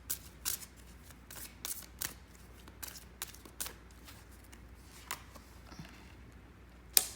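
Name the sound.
shuffling tarot cards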